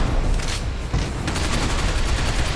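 Dense gunfire from the video game Binary Domain, a sustained loud volley of rapid shots with sharp bursts, close and continuous throughout with no talk over it.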